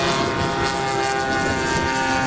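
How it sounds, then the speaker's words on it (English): A blue and white twin-engine Cessna 310 takes off, its propeller engines giving a steady, loud, broadband drone with a continuous tonal hum and no speech. "A blue and white twin going into the air is a Cessna 310."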